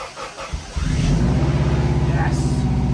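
A Metro 6R4 engine cranks and catches after a few quiet seconds, then settles into a loud, steady, throbbing idle with a slight rev near the end.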